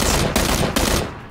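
Close, loud automatic gunfire in the video game PUBG, delivered as rapid bursts with short breaks between them before the shots cut off.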